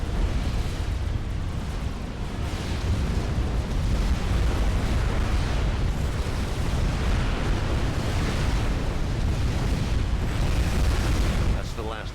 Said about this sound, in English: Artillery position is destroyed.